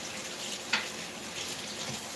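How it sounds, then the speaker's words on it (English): Kitchen tap water runs steadily over the top of a wooden spoon being rinsed, a continuous close hiss with one brief clink partway through. "I'm just rinsing the top of the wooden spoon."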